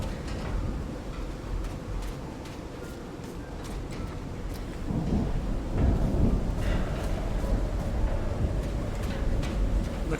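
Thunder rumbles and rolls over steady rain and wind on a dark black-sand beach with a stranded ship in the Call of the Sea video game. A deep, louder swell of thunder builds in the second half.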